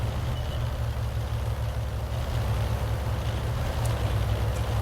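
A Bat.-Châtillon Bourrasque tank in World of Tanks driving a long way across the map, its engine a steady low rumble with a faint clatter running underneath, holding fairly loud and even with no speech.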